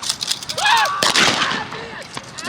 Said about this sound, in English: First gunshot.